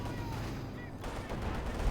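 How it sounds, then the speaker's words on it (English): Heavy mortar fire in a Company of Heroes 2 match: a dense, rumbling burst of explosions and gunfire under a commentator's voice, steady and continuous. "heavy mortar fire forcing here Orangepest Northern Machine Gun to vacate the premise"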